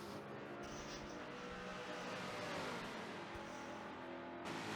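Corvette Cup race cars battle at the Indy GP, their engines droning steadily at a moderate distance as one car bumps another and the order shifts, with no one speaking.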